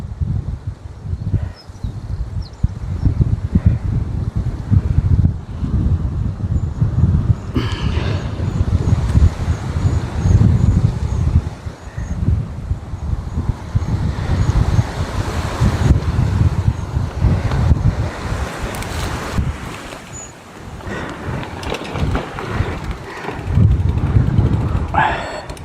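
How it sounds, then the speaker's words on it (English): Strong coastal wind on a cycling route from Blackpool to Liverpool buffets the microphone in loud, continuous gusty roaring, with occasional rustling and distant surf underneath. "Not really hiding out the wind here, am I?"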